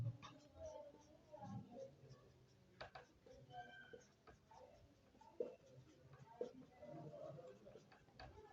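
Marker squeaks and taps on a board during a Class 11 maths lesson on sets, faint and intermittent, with short scratchy strokes spread across the stretch and a voice speaking Hindi now and then.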